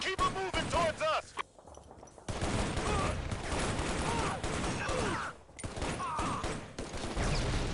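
Rapid automatic gunfire in the shooter game Shadow Ops: Red Mercury, loud dense bursts with a brief lull, mixed with game voices and a player talking.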